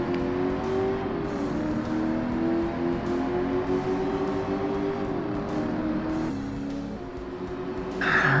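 A Corvette in Forza Motorsport on Xbox, 2005, in a classic sports car race: a loud, sustained engine drone shifting pitch as it accelerates, with a louder surge at the end.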